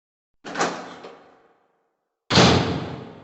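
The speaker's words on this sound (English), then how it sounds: "we heard the door we just passed through open and close" A door in the Resident Evil game opens and then closes: one swinging creak-thud fading out, a pause of about a second, then a louder closing thump with a short tail.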